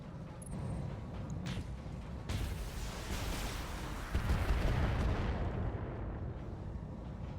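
Missile volleys from a Catapult mech in a BattleTech game make a rumbling barrage of booms and bursts. The sound builds and surges over several seconds with a heavier blast near the middle, and there is no talk.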